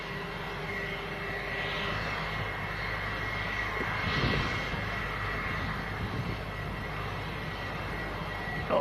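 A business jet at Leeds Bradford Airport at dusk, a steady broadband engine roar that holds through the whole stretch and swells briefly midway, with no talk over it.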